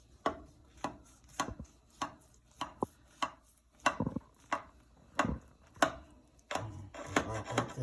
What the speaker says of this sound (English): Alright, so we'll go ahead and slice through it.